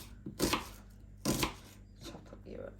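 Onion chopped with a knife on a cutting board: two loud, close, crunchy slicing strokes, then softer cuts.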